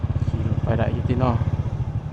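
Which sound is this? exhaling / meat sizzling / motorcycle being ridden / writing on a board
motorcycle being ridden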